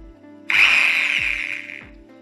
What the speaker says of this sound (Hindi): हम ड्रिल इसमें लगा के और सुराख बड़ी आसानी के साथ हम सुराख कर सकते हैं।